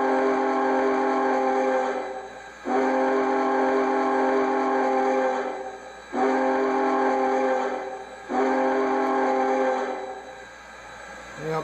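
The whistle of an MTH One Gauge (G scale) Union Pacific Big Boy 4-8-8-4 model steam locomotive blows in four long, loud, steady tooting blasts separated by short pauses, rich in harmonic tones.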